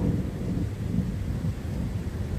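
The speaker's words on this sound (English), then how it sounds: "it's starting to thunder" Low, steady rumble of distant thunder rolls on continuously through the clip under an approaching storm outdoors, with no voices.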